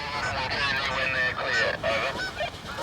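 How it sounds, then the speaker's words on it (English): A family of geese honks on an airfield runway, a cluster of loud, overlapping nasal honks repeating through the moment, fairly close, over a steady background rumble. "Hey, there's a family of geese."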